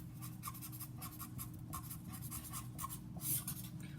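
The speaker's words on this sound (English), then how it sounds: "So I'm going to write that down" Pen or pencil writing on paper during a math lesson, a faint series of short scratching strokes repeating in quick bursts, close and quiet with no talking.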